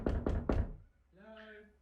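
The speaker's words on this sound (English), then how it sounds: "someone's knocking on my door" Three firm knocks on a door land in quick, even succession, close and loud, followed by a short voiced sound afterward.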